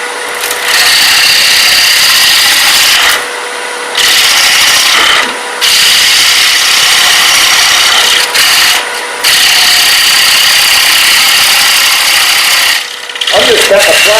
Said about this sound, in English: I'm just cutting a platter here.